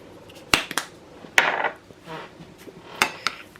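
Tzatziki sauce ingredients, including home-dried dill and borage, are mixed in a bowl. A utensil knocks and scrapes against the bowl in a few sharp clinks and short scraping bursts, alone and without talk.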